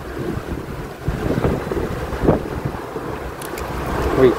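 Strong wind roars across a seaside bridge in Penang ahead of a storm, a continuous low rumbling buffet with surging gusts and faint higher rustles, no talking.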